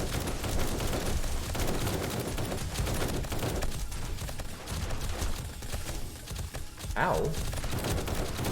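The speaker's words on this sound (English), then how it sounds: "I'm focused firing on the fat cops and the demolishers" Continuous loud gunfire against zombies in the 7 Days to Die Alpha 19 survival game, dense overlapping shots forming a steady fusillade, with a brief pained voice exclamation.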